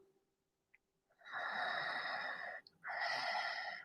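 Deep breaths during a yoga flow, two long audible breaths close to the microphone: a steady whooshing inhale, a short pause, then another airy breath, with near silence before.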